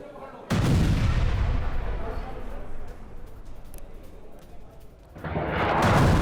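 A thermobaric strike on Russian firing positions in the Siversk area, heard as a sudden heavy blast and then a long rumbling roar that fades and swells again, with a voice talking over it.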